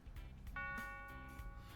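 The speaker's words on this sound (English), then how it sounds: "There's the bell." A school bell in a visual novel video game gives a short, faint electronic chime of a few tones over low background hum, with no talk.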